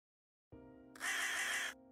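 A crow caws once in a storybook video game, a single clear harsh call sounding close and alone after a brief low tone.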